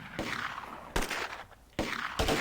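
Gunfire from the Close Combat video game comes in three sharp, loud broadband bursts spaced roughly a second apart, with a rough noisy tail between them and no talk over it.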